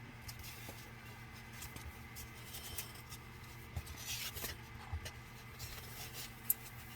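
A pencil or marker drawing a line on material for a yard decoration, faint scratchy strokes and light taps over a steady low background hum.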